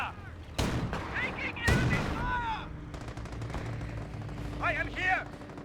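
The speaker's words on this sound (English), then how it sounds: "We're taking infantry fire." Infantry gunfire in a Company of Heroes 1 match, Wehrmacht versus US forces: sharp bursts of shots and crackling rifle fire with faint echoing tails, mixed with game voices and battlefield rumble throughout.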